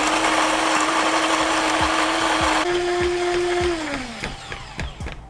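A HiBREW G5 electric espresso grinder grinds coffee beans with a steady, close motor whine that shifts pitch partway through, then winds down as scattered cracks and rattles of beans finish alone.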